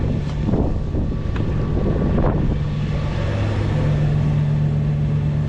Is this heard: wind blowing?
yes